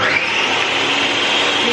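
Kitchen blender whizzing food in a short, steady burst, a continuous high whirring hiss that holds level throughout, heard close and moderately loud with no talking.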